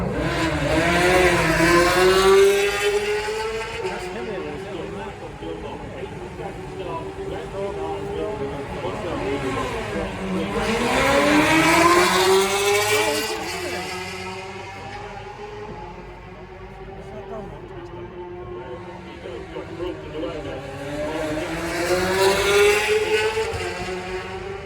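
Racing motorcycles at the Isle of Man TT scream past in repeated loud surges, engine pitch rising and falling with each pass as the bikes approach and recede, with crowd voices and commentary audible underneath.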